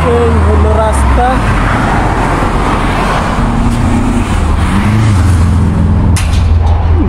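Road traffic on a street in Russia, a continuous rumble of passing cars and heavier vehicles nearby, with a brief air-brake-like hiss and a voice talking over it.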